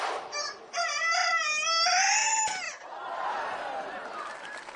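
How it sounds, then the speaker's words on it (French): A rooster crows once, close and loud, in a long strained, wavering call that ends abruptly, followed by a softer noisy background. "Et qui commençait à m'agacer, ce coq, là, il chantait de plus en plus faux."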